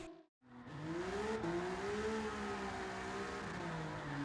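An Alfa Romeo Giulia GTAM's engine screams at high revs while drifting, its rising and falling tone holding steady against the rev limiter after a brief silent gap at the start, loud and continuous.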